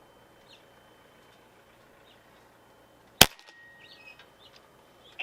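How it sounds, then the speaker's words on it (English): A single sharp pellet shot from a Niksan Escalade T .22 caliber PCP air rifle at an outdoor range, one loud crack followed by a brief ringing tail, then quiet. "I am going to take a sighter and aim dead center and see where we hit."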